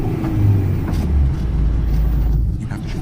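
Manual-transmission car engine rumbling steadily as the driver shifts into second gear, a low continuous drone with slight shifts in pitch as the gears change.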